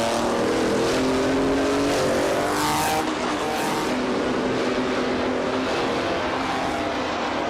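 Racing cars roar along a track, engines droning loudly and continuously with passing whooshes and shifting revs, no voices.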